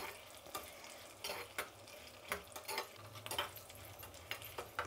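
Cumin, pepper and cashews sizzle softly in a pan for pongal, with scraping stirs and light clinks of a spoon against the metal recurring irregularly under the steady frying hiss.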